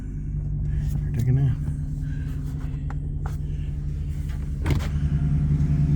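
A car engine idles with a steady low hum, lifting briefly in a couple of short revs, while a person speaks nearby.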